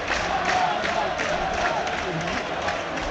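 A football stadium crowd at a Burnley versus AFC Bournemouth match gives a steady, broad roar that holds loud and continuous throughout, a dense wash of massed voices without distinct breaks.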